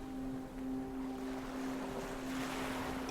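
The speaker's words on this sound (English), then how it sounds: "The slap of waves, the creak of rope, faint scent of salt." Water slapping against a boat hull under steady wind and surf noise, with a faint steady tonal hum throughout; no distinct rope creak stands out.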